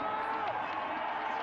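Crowd noise swelling at a canoe-kayak sprint race in Barnaul, Russia, a steady continuous roar of spectators cheering throughout, with a commentator's voice over it.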